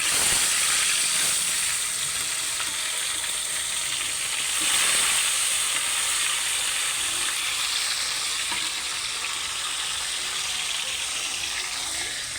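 Tilapia frying in oil in a pan, a loud, steady sizzle and hiss that continues without a break and swells briefly partway through.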